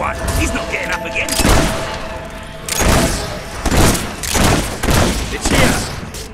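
Gunfire in Fable 3 rings out in several loud, booming shots spaced irregularly, mixed with game voices talking over the combat.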